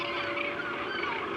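Dense chorus of gannets calling across a crowded seabird colony on a white rock, a continuous overlapping din of harsh cries with no single bird standing out.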